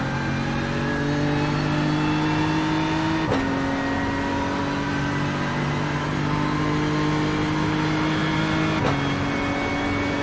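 BMW M4 GT3 race car in iRacing at Monza: loud, sustained engine tone that climbs steadily, dropping sharply at two gear changes before rising again, with no talk.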